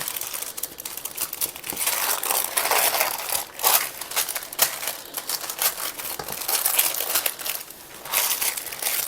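Plastic wrap around a batch of cookie dough being folded flat for freezer storage, giving a close, continuous crinkling and crumpling with sharp crackles and brief louder rustles throughout, no voices.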